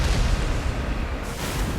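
A turret in the Mass Effect video game fires heavy booming shots, a loud, dense burst of rumbling blasts with a sharper report near the end, no talk.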